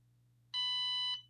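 A NIRA at-home anti-aging skincare device, set to level 1 and pressed to the back of a hand, gives a warning beep as it lifts off the skin: one steady, bright electronic tone lasting over half a second, close and clear over quiet hum.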